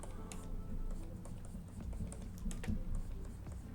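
Computer keyboard keys click in a loose, uneven series while the Alt key is held for ZBrush sculpting, close and crisp, with no voices.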